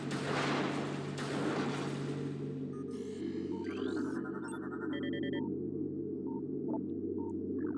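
A power bomb goes off in Metroid Prime: a loud, booming blast swells at the start and fades over a steady low hum. Electronic beeps and a rising sweep follow.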